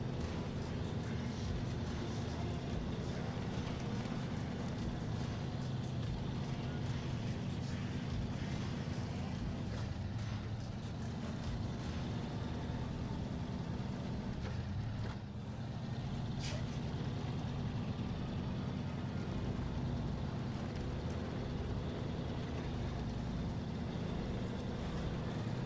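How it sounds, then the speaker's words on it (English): A damaged truck engine in the SnowRunner video game runs steadily on hard mode, a loud continuous low rumble with a brief dip midway, and faint hissing on top. "So the engine's like toast in it right now."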